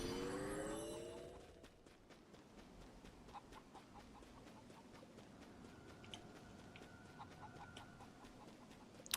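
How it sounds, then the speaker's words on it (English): A chicken clucks in the Hyrule Warriors Definitive Edition video game, faint repeated clucks scattered over a quiet game backdrop after a brief louder swell at the start. "I've also got the chicken behind me now."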